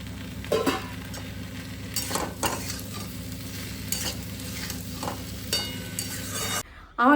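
Ginger paste, cumin, coriander and turmeric stir-frying in a pan, a steady sizzle with repeated scraping strokes of a stirring spoon, close and continuous before stopping abruptly near the end.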